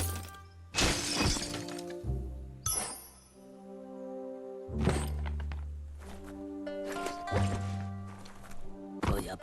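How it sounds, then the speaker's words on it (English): A wooden box is smashed in the video game Biomutant, with heavy shattering crashes and thuds repeating over several seconds above a steady, droning game soundtrack. "You shouldn't worry about smashing up the box."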